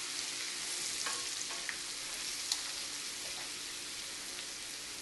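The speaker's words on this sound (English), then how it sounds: "at this point I'm going to add in my chili flakes, the Serrano chilies, just a quick 2 to 3 minutes" Chili flakes and Serrano chilies fry in very hot oil for XO sauce, giving a steady, dense sizzle with faint crackles and occasional stirring, close and continuous with no talking.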